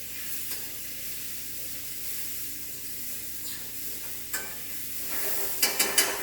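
Tomatoes and onions sizzle steadily in butter in a pan, a close, even frying hiss with a few light clicks of a utensil near the end.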